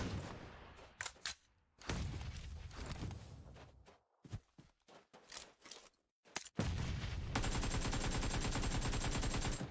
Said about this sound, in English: Switching over to the AK